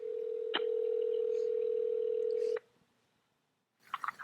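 A steady telephone tone holds for about two seconds, broken by a click, then cuts off, followed by silence and faint rustling after the number is dialed.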